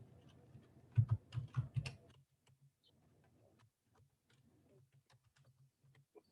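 Typing on a computer keyboard in the VIM editor: a quick burst of several louder keystrokes, then sparser, softer taps with pauses between them, close and clear with no talking.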